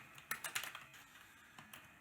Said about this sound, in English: I'm typing in the chat.